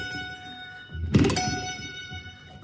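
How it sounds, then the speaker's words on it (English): Guitar rake across muted strings, strummed upward on an electric guitar with only the 14th-fret note on the E string left ringing, played as a looped part: a single loud percussive strum burst followed by a ringing tone. "You're going to rake up."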